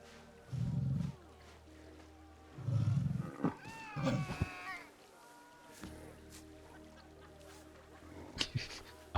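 Big cats in a Planet Zoo habitat let out deep roars: two low rumbling bursts a couple of seconds apart, then a higher yowling call, heard up close, followed by quieter clatter and short sharp sounds.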